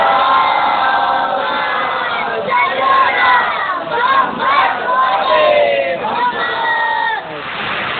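A large crowd at a Muharram majlis in Malegaon loudly recites salawat in unison, a dense, surging chorus of many voices lasting several seconds before fading.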